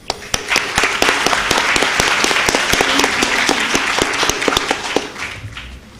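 An audience claps to welcome a speaker at a book reading, dense steady applause from a crowd close by that fades out over several seconds.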